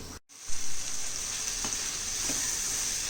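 Tomatoes cook in a kadai with a steady, close sizzle and crackle, starting after a brief clatter and continuing evenly with no talking.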